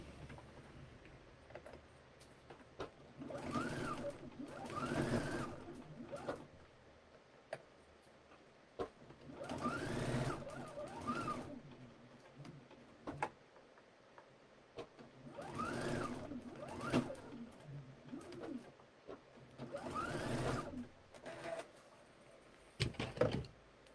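A sewing machine runs in several bursts while stitching a seam in a garment made from a Vogue 1456 pattern, its steady mechanical whir rising and falling between pauses, close and moderately loud with no voices.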